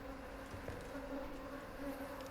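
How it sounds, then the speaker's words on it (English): Flies buzz steadily through a room in a horror video game, a continuous droning hum with no breaks, fairly quiet and alone. "She absolutely loves the sound of the buzzing flies."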